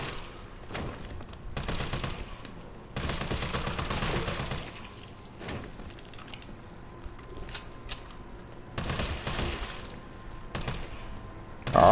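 Assault rifle fire in Resident Evil 3, several loud bursts of rapid automatic shots separated by short pauses, close and dominant with no talking.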